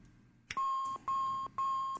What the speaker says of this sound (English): Let's cancel the alarm there